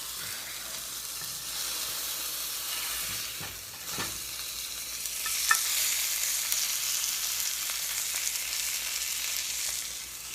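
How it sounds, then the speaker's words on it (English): A burger patty sizzles in a pan, a continuous broad hiss that holds steady for the whole stretch, with a couple of faint clicks and knocks underneath. "I'm cooking a burger patty up right quick for my sandwich"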